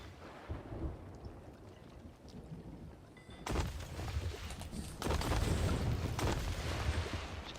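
Thunderstorm in the pirate game Sea of Thieves: steady rain hiss with rumbling thunder that swells into a heavy, sustained roll partway through, loud and enveloping with no voices.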